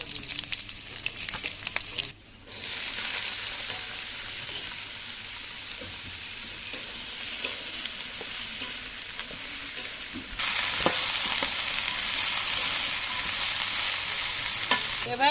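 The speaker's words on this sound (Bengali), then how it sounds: "জিরাটা তেলের উপর দিয়ে দেবো, কাঁচা ঝালগুলোও দিয়ে দেবো।" Cumin seeds and green chilies fry in hot oil in a village kitchen, a continuous crackling sizzle that drops out briefly and then swells louder, with stirring clatter over the hiss.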